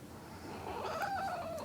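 A new pet kitty lets out a faint, drawn-out meow that rises and wavers over quiet room noise, close by and alone.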